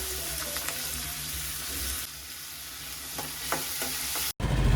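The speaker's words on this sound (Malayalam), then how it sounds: "അരിഞ്ഞ് വെച്ച സവാളയും ഇഞ്ചിയും കൂടിയിട്ട് ഇട്ട് കൊടുക്കുക. അത് നല്ലോണം വഴറ്റി കൊടുക്കേണ്ടതാണ്." Chopped onions and ginger sauté in hot oil, giving a steady close sizzle with occasional stirring scrapes, then cutting off abruptly near the end.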